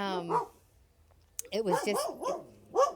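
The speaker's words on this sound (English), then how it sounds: "excuse my dog." A dog barks a few times in a room, sharp yaps breaking through and overlapping a man's conversational speech.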